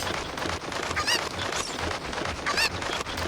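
Chickens in Ocarina of Time squawking and clucking in two short bursts over dense, noisy game sound.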